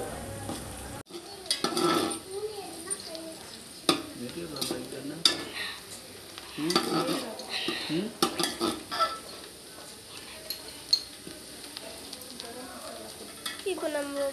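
Mutton biryani ingredients fry and sizzle steadily in a pan while a utensil stirs, scraping and clinking against the metal in irregular bursts, close and continuous for a long stretch.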